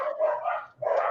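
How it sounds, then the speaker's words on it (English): Dogs bark somewhere outside, a couple of short midrange barks with a brief gap between them, heard clearly and fairly loud with no talking. "It's the dogs are going nuts out there."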